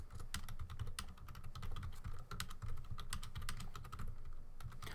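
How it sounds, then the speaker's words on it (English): Fast, steady clacking of keys on a computer keyboard, close and continuous, with a low background hum and no speech. "Just typing in chat."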